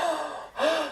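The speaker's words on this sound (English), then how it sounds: "you might shift into a desperate breath" Two sharp desperate gasping breaths, a quick inhale followed by a second stronger one, close and breathy, with no other voice.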